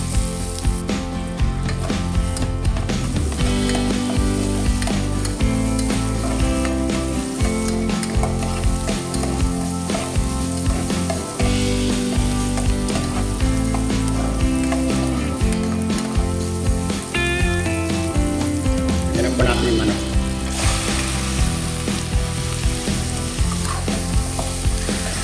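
Ginger sizzles in a hot pan for chicken tinola, a dense continuous frying crackle with occasional stirring clatter, loud and close throughout without talk.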